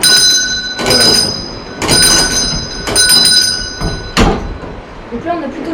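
Small alarm bell on the Moulin de Porchère water mill, struck by two tappets while little water is flowing, rings about four times at roughly one-second intervals over a steady rushing wash of water.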